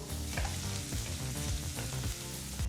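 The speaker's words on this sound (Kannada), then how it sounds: "ಮೀಡಿಯಂ ಫ್ಲೇಮ್ನಲ್ಲೇ ಈರುಳ್ಳಿನ ಚೆನ್ನಾಗಿ ಫ್ರೈ ಮಾಡ್ಕೋಬೇಕು" Chopped onions fry over a medium flame in a pan for a ladies finger (okra) gravy, giving a continuous, dense, close sizzle with regular stirring scrapes throughout and no speech.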